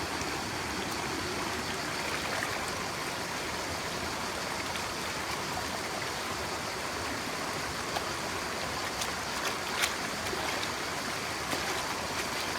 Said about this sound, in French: Et je vais le nettoyer, le mettre dans l'eau et faire en sorte que tout tombe au fond.